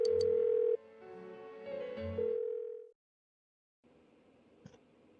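A phone rings unanswered in the video game Persona 4 Golden, a few electronic ring tones that stop abruptly, then a brief silence and some faint background noise.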